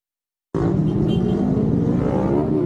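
A car approaching fast while turning at a Manila street crossing cuts in suddenly as a loud, steady engine and tyre roar, close and continuous.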